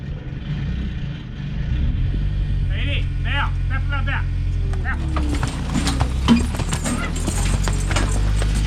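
Horses walking with rhythmic hoof clip-clops as they pull a stuck skid steer out, under a loud steady engine rumble, with a person talking over it.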